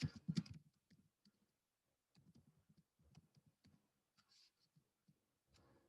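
Quiet, sparse clicks of typing on a computer keyboard come in short irregular bursts separated by pauses, close and faint, with no talking.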